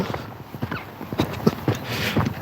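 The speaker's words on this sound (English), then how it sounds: "And the horse standing right in my way." A horse's hooves clip-clop close by on a hard surface during a morning walk, several uneven strikes in a loose rhythm alongside faint outdoor ambience.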